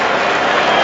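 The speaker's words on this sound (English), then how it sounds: "Cheers for the England supporters." A stadium crowd at an England versus Pakistan T20 cricket match roars and applauds a wicket, a dense, loud wash of cheering and clapping filling the whole moment.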